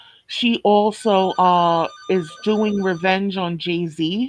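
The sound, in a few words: telephone ringing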